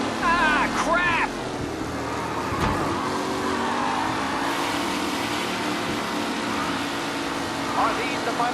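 Race cars in Mafia Definitive Edition roar past in a steady, loud engine drone with shifting revs, a sharp skid near the start and voices talking over the racing noise.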